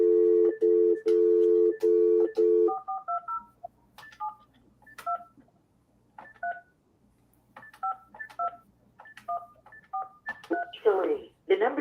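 A run of phone keypad tones as an international number is dialed, steady beeps at first and then a quick series of short paired tones, with people talking faintly over the dialing.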